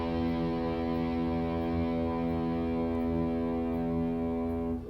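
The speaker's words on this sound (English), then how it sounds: "I'll go ahead and give you a low E to tune to if you want to play along with the record" A sustained low E note on a distorted electric guitar, offered as a tuning reference, rings steadily and loud for the full length before cutting off at the very end, with no voices.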